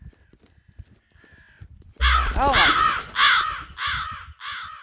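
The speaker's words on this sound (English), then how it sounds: "Disturbance level 2 because of the darn crows." Several loud, harsh crow caws from the game Jaws of Extinction come in a quick run of rising and falling calls, following a quiet stretch with a brief spoken exclamation.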